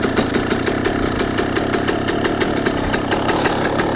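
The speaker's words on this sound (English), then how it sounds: "So now when you kickstart it, you're going to want to give it a little bit of throttle just to get her started" A dirt bike engine runs steadily after a kickstart, its rapid, even firing pulses loud and close, holding a continuous idle rhythm throughout with no talking.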